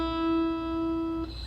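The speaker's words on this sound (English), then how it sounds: "the high E string sounds like this" A single open high E string rings on a guitar, a steady sustained note that holds clearly and then fades slightly near the end, alone with no talking.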